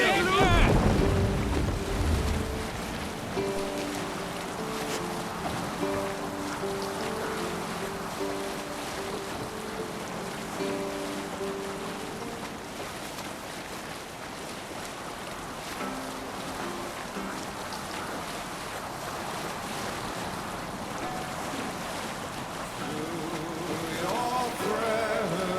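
A sailing ship under full sail at sea in Assassin's Creed Valhalla, with steady wind and wave wash throughout and a sustained tonal musical layer riding over the rushing water.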